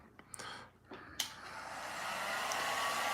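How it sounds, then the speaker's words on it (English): A small My Salon Doll Blow Dryer blows out human-hair doll hair. A few handling clicks and bumps come first, then the dryer's airy whir rises and holds steady at close range. "I'm going to use the official My Salon Doll Blow Dryer"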